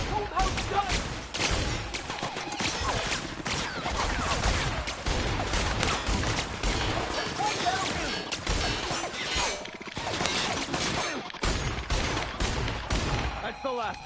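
Rapid, loud gunfire rips through a fight with robots in The Outer Worlds, dense volleys mixed with crashes and metallic impacts, with speech woven in between bursts.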